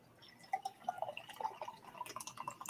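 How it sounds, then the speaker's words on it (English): Beer is poured into a glass, giving soft irregular drips and gurgling trickles close by that turn into faster bubbly splashes toward the end, with no talk. "We'll pour up another one."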